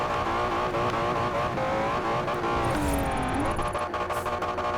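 A James Bond car revs and skids in Forza Horizon 4, its engine whining and shifting pitch while tires squeal briefly near the middle, loud and continuous with no voices.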